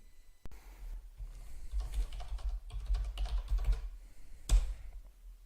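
Typing on a computer keyboard produces an uneven run of soft, close key clicks. A sharper single press, like the Enter key, lands near the end.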